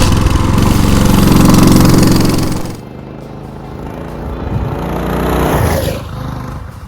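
A Coleman CT200U-EX mini bike's small engine runs on full choke after starting, a loud steady close drone that drops to a lower idle hum, then rises briefly again.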